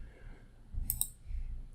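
Two quick computer mouse clicks in close succession while working in Revit 2019, crisp and near against a quiet room hum.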